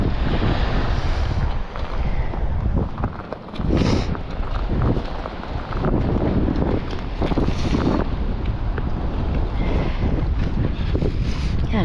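Strong wind blowing across a beach while shelling, a loud continuous buffeting roar hitting the microphone in gusts, with surf mixed underneath.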